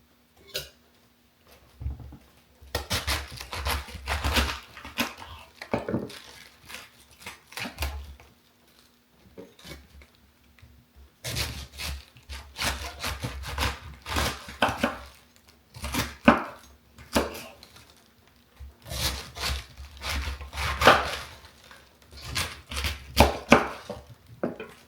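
A knife chops vegetables into small pieces on a cutting board, giving bursts of rapid, close, crisp taps separated by short pauses.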